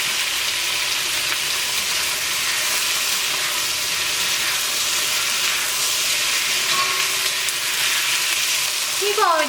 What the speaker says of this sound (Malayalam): ഈ കോവയ്ക്ക ഒരു മീഡിയം ഫ്ലെയിമിലിട്ടിട്ട് ഇത് ഫ്രൈ ചെയ്തെടുക്കാം.